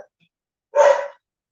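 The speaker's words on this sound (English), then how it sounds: "That's a mongrel puppy." A single short, breathy yelp from a mongrel puppy, close and fairly loud, standing alone in silence.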